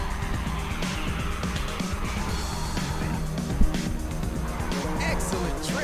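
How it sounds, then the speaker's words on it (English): Ridge Racer 6 race cars roar continuously with dense engine noise and tyre squeal, and a brief sharp burst near the middle marks a nitrous boost being fired off. "someone's just fired off some nitrous"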